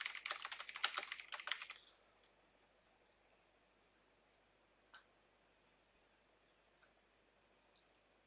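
Someone typing a name on a computer keyboard, a fast flurry of light clicking keystrokes for under two seconds, then near silence broken by a few isolated, faint key taps.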